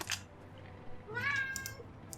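A pet cat meows indoors with a rising tonal call, heard faintly under low background hum and game audio.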